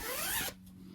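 Dress zipper pulled closed in one quick, close rasping zip lasting about half a second, then near silence.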